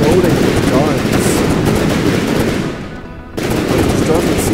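Aircraft guns in the video game From the Depths fire in dense, rapid automatic bursts, loud and continuous, with a brief dip near the end before the barrage resumes; a voice talks over the gunfire.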